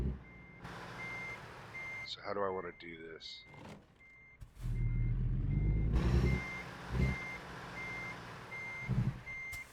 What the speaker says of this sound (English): Guess I can't keep backing up that way.